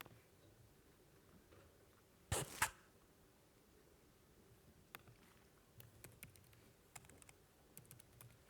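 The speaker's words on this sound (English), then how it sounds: "Let me type it in." Faint, sparse clicks of fingers tapping a computer keyboard in a quiet room, scattered irregular keystrokes after a brief louder clatter, with no talking.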